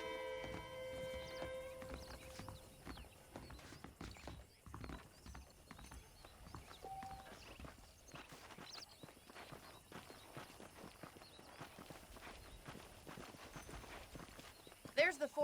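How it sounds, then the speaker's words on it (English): Horse hooves clip-clopping at a steady walking rhythm as a rider travels in Red Dead Redemption, with a whinny and ambient game sound, under a character's talk. "Let's see if we can get you back in the saddle."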